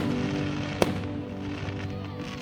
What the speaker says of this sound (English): then we went back out at about 9:30-ish for the fireworks